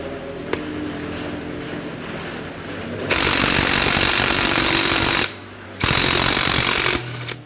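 An impact wrench removing TC bolts, loud and close, hammering in a continuous rattling burst for about two seconds, stopping briefly, then running again before cutting off, over a steady mechanical background hum.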